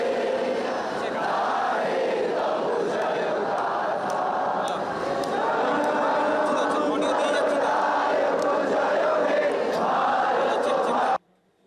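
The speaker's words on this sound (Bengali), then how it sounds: "এই কটা দিন যে স্লোগানে বাংলার আনাচ কানাচ ভরে উঠছে, উই ওয়ান্ট জাস্টিস, সেক্টর 5 থেকে একই স্লোগান।" A large street protest crowd of tech workers in Sector 5, Kolkata, chants a slogan in a loud, continuous roar that fills the space and then cuts off abruptly.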